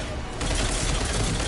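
Rapid automatic gunfire from a Mass Effect 3 firefight, a dense continuous burst that kicks in loudly after a brief quieter lead-in and holds steady.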